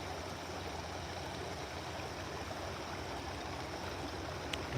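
Brodhead Creek flows in a steady, even wash of running water, a constant close rushing murmur with no breaks and no voices.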